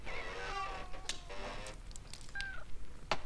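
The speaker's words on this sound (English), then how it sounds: "Oh, freaking cat. It's always a cat." A cat meows in a scene from the 1976 film Logan's Run, a few drawn-out mews over a hissy background with faint ticking, fairly close and moderately loud.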